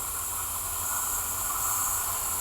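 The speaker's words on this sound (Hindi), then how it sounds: "चलो भाई साहब, फाइनली ये आ गई क्रॉसिंग के लिए सिलचर रंगिया एक्सप्रेस" Silchar Rangiya Express rolling in at a crossing in the Barak Valley, a steady loud rumble with a high hiss running throughout, no pauses or talk.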